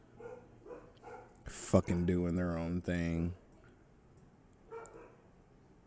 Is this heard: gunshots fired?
no